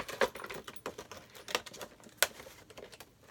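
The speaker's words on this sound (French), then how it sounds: "Ah vas-y, j'arrache l'emballage." Gift box packaging being torn open by hand, a run of quick, crisp rips and crinkles in uneven bursts, close to the microphone, with short pauses between pulls.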